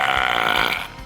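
A long, loud, rasping burp from a man just after drinking beer, close up, fading out at the end.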